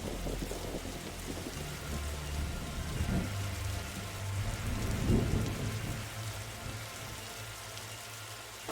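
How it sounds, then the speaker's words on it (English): Thunderstorm with steady rain in The Darkside Detective game, at a library: a dense, continuous wash of rainfall with low rolling thunder swelling around the middle, no voices. "that's a very spooky storm"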